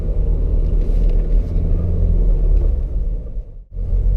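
A car engine rumbles steadily and close in a smooth downshift with a light touch of gas, its low drone briefly dipping and cutting out near the end before picking back up.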